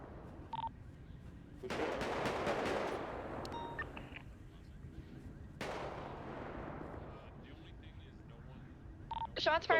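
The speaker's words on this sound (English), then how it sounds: "Shots fired from the green colored vehicle." Gunfire in a video game comes from a green vehicle as two loud, rapid bursts of shots, each decaying into a noisy tail. Short beeps and clicks sound between the bursts, and people talk throughout.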